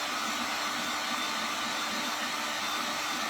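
A hair dryer roars steadily and loudly at close range, blowing on a fresh coat of paint on a silver Christmas tea set.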